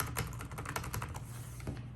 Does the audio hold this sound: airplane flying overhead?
no